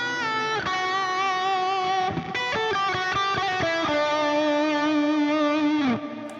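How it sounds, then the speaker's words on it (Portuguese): An electric guitar played through a Tonex pedal and HX Stomp with delay and reverb rings out in sustained distorted chords and notes, changing every second or so and trailing off in echoing repeats. "vamos ver aqui com um delay reverb"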